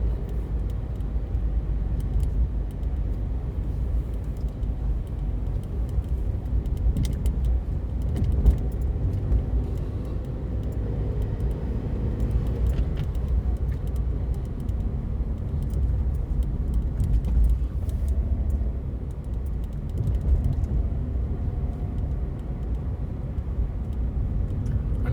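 A car drives through Blackpool streets on a Sunday afternoon, its steady road rumble and engine drone continuing throughout with no talk, and small rattles now and then.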